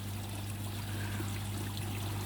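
Water from a pond's Easy Pod filter, fed through two UVs by an 8,000 litre pump, trickles steadily back into the pond over a constant low pump hum.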